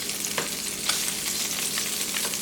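Tofu pieces fry in a hot pan with a constant crackling sizzle, broken by several soft scrapes and taps as they are flipped over, close up and with no talking.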